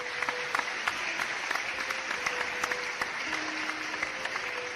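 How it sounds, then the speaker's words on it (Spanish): Audience applause as a host is introduced at a Spanish-language event, a steady mass of clapping at moderate distance that carries on evenly throughout, with a faint background tone and little talk. "Démosle un aplauso."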